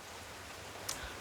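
Steady rain falling outdoors, a soft continuous hiss with a few brief louder patters, fairly faint and unbroken by talk.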